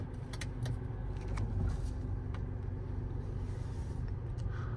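2023 Ford Escape ST-Line driven on the road, a steady low engine and road rumble heard from inside the cabin, with faint clicks and rattles on top.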